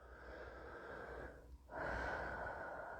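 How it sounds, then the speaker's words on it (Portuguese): A deep breath during a guided meditation, a soft airy inhale that pauses briefly before a fuller, breathy exhale, close and quiet with no speech. "E você faz mais uma respiração profunda."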